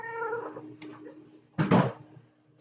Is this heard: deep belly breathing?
no